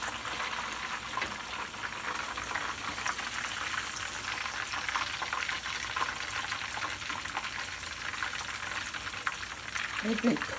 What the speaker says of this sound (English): Peppers are grilling.